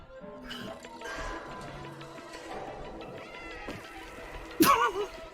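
Cat meowing in the Stray video game trailer, a few soft meows over ambient music, then a sharp, bright cry near the end.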